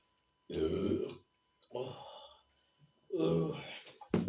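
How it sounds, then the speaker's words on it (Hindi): Several loud, deep burps close to the listener come in three separate drawn-out bursts with short silences between, after eating spicy Lays potato chips in an eating challenge. "मेरा डकार और मेरा नाचना जो मेरी खुशी का इज़हार"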